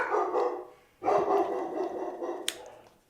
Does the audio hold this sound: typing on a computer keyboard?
no